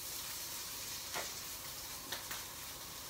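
A T-bone steak sizzles in a pan with a continuous, even hiss, close and fairly soft, with a few small pops and crackles rising above it and no talking.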